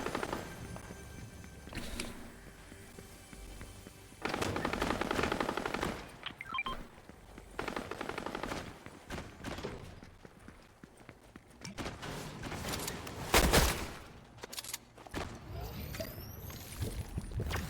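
Fortnite gunfire crackles in quick bursts and scattered single shots, mixed with game sounds and people talking over it.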